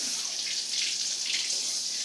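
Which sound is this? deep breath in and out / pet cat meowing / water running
water running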